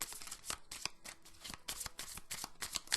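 A deck of tarot cards being shuffled for a reading: a steady run of crisp riffling and slapping bursts, close and fairly loud, with no voices over it.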